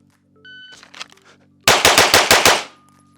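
A Glock pistol fitted with a polished, re-angled Combat Master trigger fires six loud, sharp shots in quick succession, preceded by faint electronic beeps from a shot timer and light handling noise.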